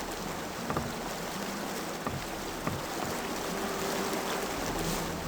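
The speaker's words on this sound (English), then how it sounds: "The rolling of the river." A flowing river in the Gothic 1 game world, a steady close rushing and gurgling water wash with a few faint splashes, continuous and even, no voices.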